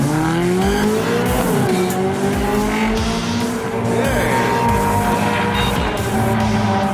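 A race car pulls away from a standstill under launch control, its engine roaring loud and steady as revs climb through gear changes, with tires squealing against the track and no voices.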